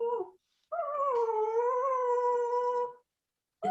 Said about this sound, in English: Oh, it's my dog, Brian.